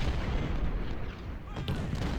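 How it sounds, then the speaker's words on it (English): Gunfire from a skirmisher unit in Ultimate General: Civil War, a dull, distant rumble of musket and battle fire rolling steadily, with a brief sharper crack near the end. "Here comes one of the skirmisher units, and bang, there he goes."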